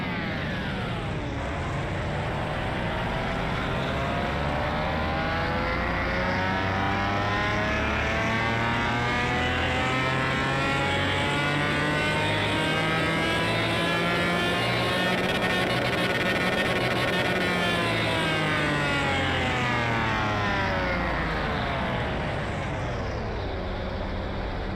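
A McLaren F1 engine on a dyno in Car Mechanic Simulator roars through one long, loud, sustained rev, its pitch climbing steadily, holding high, then falling back near the end, with no voices.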